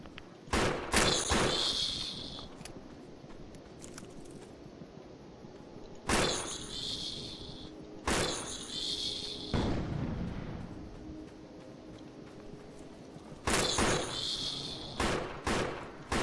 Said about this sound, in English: I do not remember the starter gun being this effective.